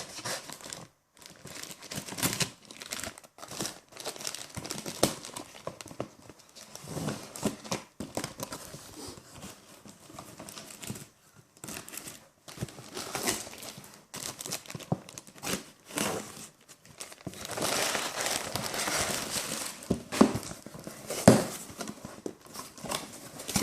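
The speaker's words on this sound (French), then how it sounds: "On va ouvrir ça avec le couteau Gerber de Bear Grylls." A Gerber Bear Grylls knife slices and tears through a crinkly AliExpress plastic parcel, giving a long stretch of close rustling, crumpling and scraping with brief quiet gaps and busier bursts toward the end.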